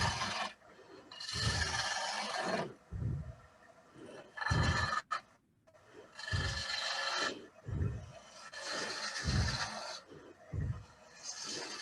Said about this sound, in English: we'll sand it before we part it off